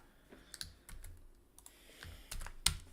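Quick bursts of computer keyboard typing and clicks while a link is copied and pasted, close and fairly quiet, ending in a sharper keystroke.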